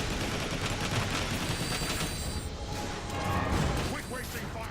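Dense, continuous gunfire and mechanical clatter fill the Transformers: War for Cybertron video game battle, loud and unbroken with rapid shots layered together throughout.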